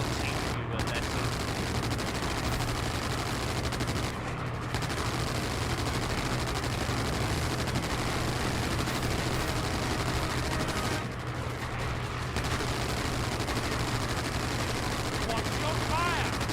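Rapid machine-gun fire fills the Wings of War aerial combat game as planes engage enemy aircraft, a dense, continuous rattle of bursts with aircraft engine drone, broken by brief pauses.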